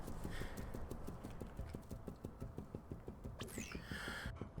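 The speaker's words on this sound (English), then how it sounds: "Clip, clop, clop. Do you hear that? The footsteps." Footsteps clip-clop steadily in Xenoblade Chronicles X while walking alone through the Outfitter's test hangar at night, a regular hoof-like rhythm running throughout over a steady background hum, with a brief whooshing sweep near the end.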